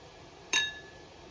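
Heisey glass creamers and sugar bowls clink once as they are handled, a short bright ringing chink close by against a quiet background.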